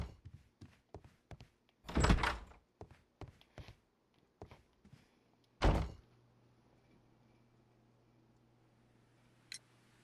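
A door swings open in the detective video game Sherlock Holmes: Crimes & Punishments, a heavy thunk after scattered footsteps and clicks, followed by a low steady hum and a faint later tick.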